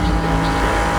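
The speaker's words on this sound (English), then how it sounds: "traffic, the sound of traffic here on 6th Avenue" Traffic rumbles along 6th Avenue, a loud, steady wash of engine drone and road noise filling one brief moment without any talking.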